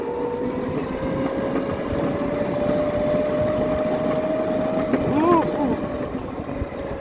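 A mini electric cart running at full speed on 36 volts, giving a steady whine with a rising electric tone that holds throughout, close by, mixed with wind noise, and a voice speaking briefly near the end.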